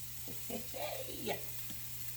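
Rough chopped garlic sizzles in a pan for berbere potatoes, a steady low frying hiss under brief faint speech and some soft stirring scrapes.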